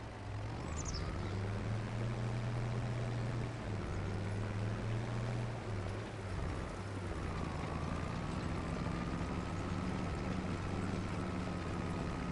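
Farming Simulator 25 tractor engine in the field, a steady loud low drone with a faint rising whine as the engine strains and bogs down through a tight turn while pulling a very big implement.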